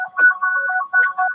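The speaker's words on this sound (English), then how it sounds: "The phone's ringing" A phone ringtone plays loud and close, a short bright electronic melody of repeating tones with two brief pauses.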